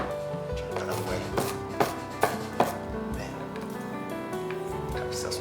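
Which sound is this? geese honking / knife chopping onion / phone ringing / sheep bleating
knife chopping onion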